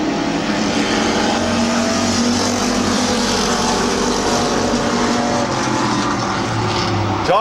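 Race cars roar around Midvale Speedway in a dense, continuous engine drone, loud and steady for the whole stretch, with overlapping motors droning at a short-track oval.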